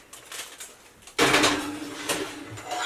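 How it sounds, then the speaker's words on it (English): A foil-covered apple crisp is set into the oven in a tiny-house kitchen: a sudden loud clatter of the pan and oven rack, then continued metallic rattling and scraping nearby. "I'm going to pop it in the oven."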